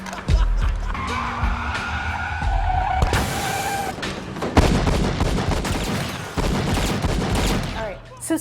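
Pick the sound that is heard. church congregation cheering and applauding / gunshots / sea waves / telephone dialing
gunshots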